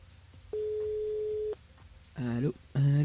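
A telephone line tone sounds once as a steady one-second beep on a live radio show, followed by two short voiced bursts.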